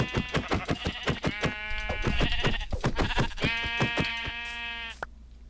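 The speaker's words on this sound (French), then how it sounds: "Ah, mouton." Sheep bleating in the video game Minecraft, a string of repeated, wavering bleats that come close and clear over about five seconds, then stop abruptly with no talk.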